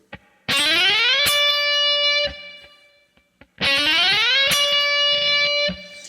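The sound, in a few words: distorted electric guitar pick and slide on B string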